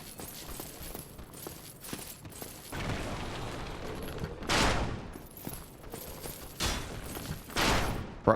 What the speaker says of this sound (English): is that guy shooting through the fucking window?